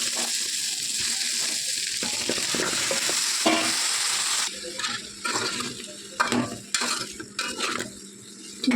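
Chicken legs with masala powder being stirred and fried for a curry, a steady close sizzle with scraping strokes of a spoon against the pan, the stirring growing choppier and more intermittent toward the end.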